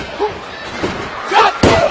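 Randy Orton body-slams Bray Wyatt onto the ring mat at WWE No Mercy 2016, a heavy thud landing near the end over arena crowd noise and a commentator talking.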